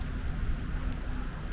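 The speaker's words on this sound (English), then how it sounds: "it's starting to rain a lot again, too" Heavy rain from Hurricane Milton pours down in Orlando, a dense, even hiss of drops on surfaces with no voices.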